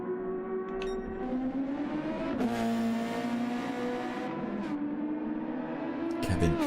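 A Super Formula race car at Interlagos spins off track with a sharp tire squeal, then its engine whines and climbs through the revs as it accelerates back to speed, the pitch rising and shifting between gears at a moderate distance.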